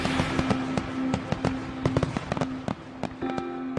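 Fireworks bursting on the Fourth of July, a rapid, irregular run of sharp cracks and pops, some loud and close, others fainter, over a steady hum and crowd murmur.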